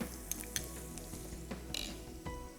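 Ginger and spices sauté quietly in a pan, a soft steady sizzle punctuated by occasional clinks and scrapes of a utensil stirring against the pan.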